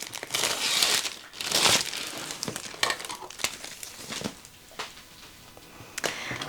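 Plastic wrapping around a Diamond Art Club artwork box crinkles and crackles in close, irregular bursts as it is cut open, rising and falling throughout.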